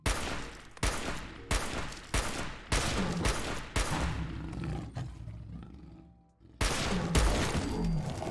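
A fully upgraded semi-automatic Bullpup R91 rifle firing .308 rounds in Fallout 4, loud booming single shots fired one after another in a steady rhythm, with a short lull before the final two blasts.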